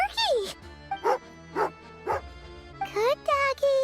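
A dog in the video game Genshin Impact gives a run of short, bright barks and yips, several evenly spaced then a quicker cluster, close and clear over quiet game music.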